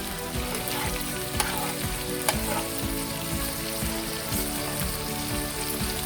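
An egg fries in a hot pan for pad thai, giving a steady, dense crackling sizzle with a few sharp pops throughout.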